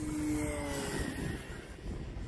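E-flite Extra 300 3D radio-controlled plane stalling and spiraling down, its electric motor whine falling in pitch and fading into a steady airy rush, heard outdoors at moderate distance with no talking.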